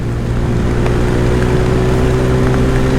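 A TVS Rider 125 motorcycle accelerating hard in fourth gear on a road, with a loud, steady engine drone, layered exhaust tones and wind rush throughout, no voices.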